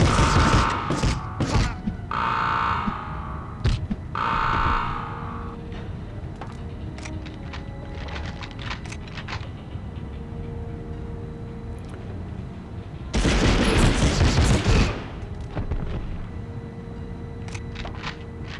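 Gunfire in the Medal of Honor video game: sharp bursts of shots early on, scattered thumps and mechanical clatter through the middle, then a loud dense volley of firing, all without talk.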